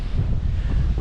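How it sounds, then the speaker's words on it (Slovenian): Strong wind buffets the microphone outdoors beside the sea at a stone house near Zadar, a steady low rumble with gusty surges throughout. "Škoda, ker tako piha."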